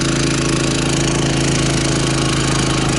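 A Champion dual fuel generator runs in econo mode at lowered RPM, a loud, constant close-up engine drone with a steady rumbling pulse and no variation.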